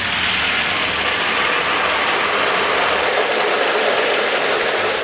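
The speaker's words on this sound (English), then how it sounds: "When I pull this rod, the generator is gonna start." A homemade generator driven by falling marbles starts up, giving a dense, continuous mechanical rattle and whir at steady loudness, near and with no gaps.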